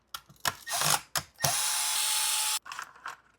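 A power tool driving out the screws of the motor cover on a Traxxas X-Maxx remote-control car: short whirring bursts, one sustained run in the middle, then more brief spins, all close and loud.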